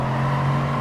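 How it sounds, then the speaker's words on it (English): Race car engine in Gran Turismo Sport, held near the rev limit out of a corner, a loud steady buzzing tone with strong harmonics, sustained for under a second. "revving the car out to make sure we get to get close"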